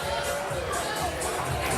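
Crowd noise in a bowling arena during a PBA playoff round-of-16 match, a steady broadband murmur and chatter of many spectators at moderate distance, continuous throughout.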